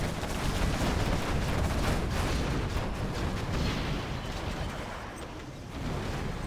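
An anthrax bomb strike in a real-time strategy game lands with a continuous roar of dense explosions and rumbling blasts, loud and sustained before easing off slightly toward the end.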